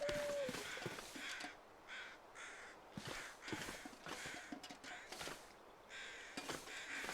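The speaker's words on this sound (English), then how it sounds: "Trying to find the crows." Several crows caw in the snowy wilderness of the survival game The Long Dark, harsh calls repeating in irregular bursts at moderate distance over a soft wind bed, with faint crunching footsteps between them.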